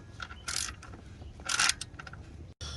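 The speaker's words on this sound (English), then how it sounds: "I was able to find my small ratchet and it works perfect" Small hand ratchet tightening a screw during alternator replacement on a Hyundai Elantra, giving two bursts of quick metallic clicking amid softer handling noises, close and fairly quiet.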